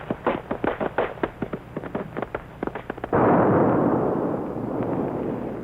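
A rapid string of sharp bangs and pops like rockets being ignited one after another under a sled, about forty-seven in all, then merging into a loud, sustained roaring rush that holds steady to the end.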